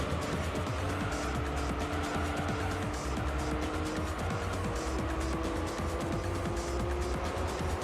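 Nissan race car overtaking in Gran Turismo 3 video game, loud continuous engine whine with shifting pitch, tire squeal and other cars passing close by, steady racing noise throughout.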